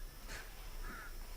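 A crow caws twice at a distance, short hoarse calls spaced about half a second apart over a steady low background hum, with no talking.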